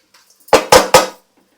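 Three quick, loud, close metallic clatters ring out in a pan as chana dal goes into a carrot curry, each hit followed by a short ring before silence.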